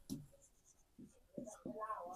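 Chalk or marker strokes on a board during a maths lesson, a few short scratchy bursts with brief pauses, mixed with faint speech.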